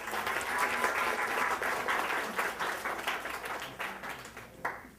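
An audience applauds warmly to welcome a speaker at a health psychology lecture, with steady, dense clapping for several seconds that fades toward the end.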